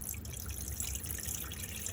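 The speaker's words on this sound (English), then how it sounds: "just come to your sink, like I am now, and pull your hot water through" A hot water tap runs steadily into a caravan sink while the water pump works, giving a constant close hiss and gurgle with faint drips.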